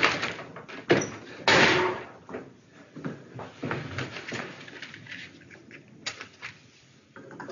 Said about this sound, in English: It took several minutes to break down the door